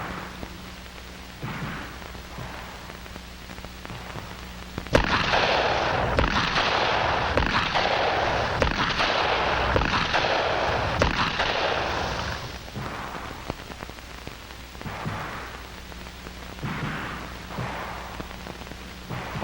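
A rifle fired from a crouch in the hip position, with a dense cluster of loud, sharp shots rattling out over about seven seconds, then quieter background with scattered fainter cracks.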